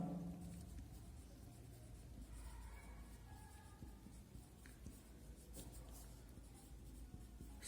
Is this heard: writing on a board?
yes